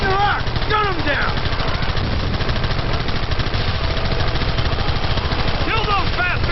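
Rapid, sustained gunfire fills a Red Dead Redemption shootout, steady machine-gun bursts running nearly throughout, with voices shouting over the din in the middle and near the end.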